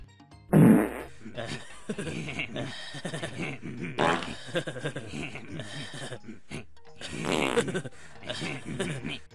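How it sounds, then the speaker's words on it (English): Cartoonish farting bursts from a peach flower in the video game Tomba, several loud, sputtering blasts spread across the stretch and mixed with a talking voice. "This is a peach flower, and it farts, letting out a yellow gas when you grab onto it."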